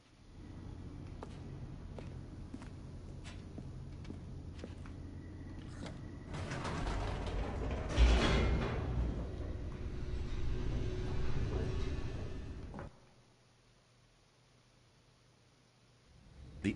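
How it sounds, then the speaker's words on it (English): A game elevator in The Stanley Parable descending, a steady low mechanical rumble with creaks and clanks that swells midway, then cuts off abruptly into near silence. "The elevator raced downward"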